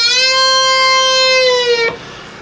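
An electric guitar note on the B string at the 10th fret is bent up, held, and released back down in one smooth sustained phrase, ending with a short fret-buzz scrape.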